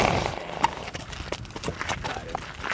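A tan horse at a ranch moving with steady hoof clip-clops, close by, with soft thuds and shuffles and a voice speaking briefly over the hoofbeats.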